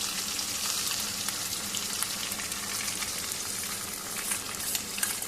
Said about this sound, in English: now I'm going to add my cumin paste.